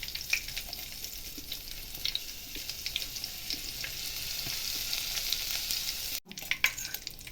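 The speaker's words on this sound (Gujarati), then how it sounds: "હવે તેલ ગરમ થઈ ગયું તો તેમાં આદું થોડું ક્રશ કરીને" Crushed ginger fries in hot oil with cumin for a spicy tomato chutney, giving a steady close sizzle with small crackles and pops throughout and a brief stir near the end.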